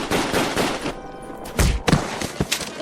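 Rifle gunshots ring out in a radio drama, several sharp loud cracks with thuds in quick succession amid a tense outdoor scene, with no speech.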